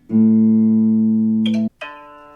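A single plucked guitar A string, being tuned, rings with a steady, sustained tone, then is cut off and struck again more brightly.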